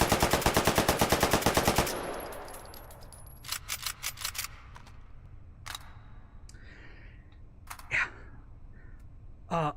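Rapid automatic gunfire from a 64-round firearm with a complicated spiral feed system in the VR shooter H3VR, a loud sustained burst lasting about two seconds, then scattered quieter clicks, clacks and short mechanical handling noises.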